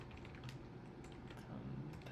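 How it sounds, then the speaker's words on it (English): Quick irregular clatter of keys typed on a computer keyboard, close and fairly quiet, with a continuous low hum underneath and no speech. "Hopefully I'm typing these out right"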